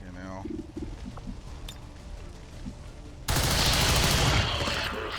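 XCOM 2 gunfire erupts partway through as a loud, sustained burst of crackling shots, following a stretch of muffled game ambience with a brief voice line.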